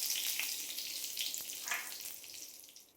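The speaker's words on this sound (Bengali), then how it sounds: "সবার প্রথমে কড়াই দিয়ে দিয়েছি 1 টেবিল চামচ সরিষার তেল। এর মধ্যে ফোড়নে দিয়ে দিচ্ছি অল্প একটু গোটা জিরে, তার সাথে একটু কারি পাতা কুচি করে দিয়েছি" Whole cumin seeds and chopped curry leaves sizzle in hot mustard oil in a kadai, a bright hissing crackle that fades slightly toward the end, with a couple of stronger spits.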